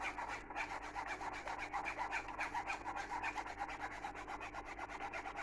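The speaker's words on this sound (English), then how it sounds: "you can use the bottom of the spoon and just rub the bottom of the spoon and the bottom there" A spoon rubs elderberry sauce through a sieve in quick, even strokes, a close, soft rasping scrape repeating steadily for several seconds.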